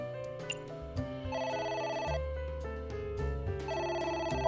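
A telephone rings in the video game AI: The Somnium Files, a repeating electronic ring layered over steady game music, moderately loud and with no talking.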